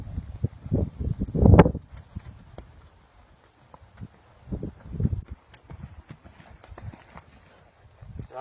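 A horse being ridden during training gives a scatter of hoof clip-clops, with one loud cluster early and fainter irregular footfalls after it, and long quiet gaps in between.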